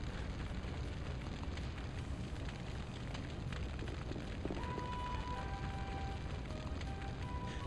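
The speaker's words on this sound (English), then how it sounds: "Oh no, the buildings are on fire. Everything we made just got blown up." Buildings burn and blow up in the video game Skies of Arcadia, a dense, continuous roar of fire and explosion rumble that stays loud throughout, with a thin electronic tone appearing near the end.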